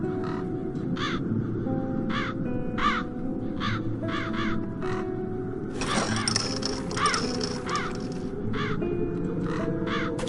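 Crows caw repeatedly in the video game The Dark Eye: Chain of Satinav, with harsh calls coming in quick groups over a steady ambient music and sound bed.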